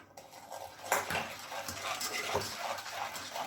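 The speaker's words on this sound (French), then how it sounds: "On mélange avec un fouet" A whisk beats a coffee and cream mixture in a bowl, clinking rapidly against the sides with brisk irregular strokes up close, with a few faint background sounds.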